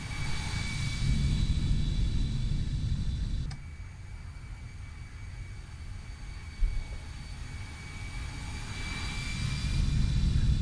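Steady roar of a CFM56 jet engine on an Airbus A319 in flight, from a flight simulator soundpack, with a constant whine and broadband rush that dips briefly and then builds again, with no one talking.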